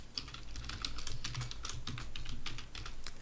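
Rapid keystrokes on a computer keyboard while writing C# code in Unity, a steady run of close, crisp clicks over a low background hum with no talking.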